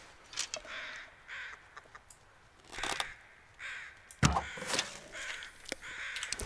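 A bird caws in The Long Dark video game, several harsh, rasping calls in bursts at moderate distance, with a louder cluster near the end over a quiet, breathy background.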